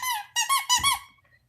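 A squeaky rubber pig toy squeaks in a few quick, high, nasal squeals spaced closely together, loud and close, with no talking.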